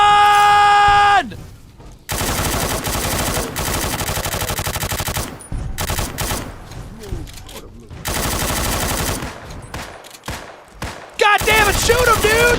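Gunfire in a modded Fallout New Vegas game: loud bursts of rapid automatic shots separated by short pauses, with a synthetic tone at the start and a brief melodic effect near the end.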